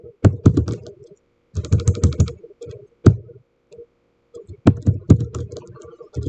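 Bursts of quick keystrokes on a computer keyboard, clustered in short runs separated by pauses, close and clear with no talking over them.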